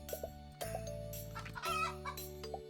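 Cartoonish chickens cluck in the card game Terracards, a few quick bursts of clucks layered over a looping musical backing.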